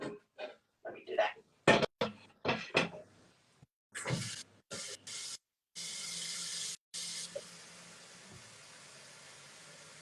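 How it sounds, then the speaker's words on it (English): Water runs into a cooking pot at home, first in short bursty splashes and then as a steady pour for a few seconds before it stops, with faint background hum. "I'm adding water in the pot"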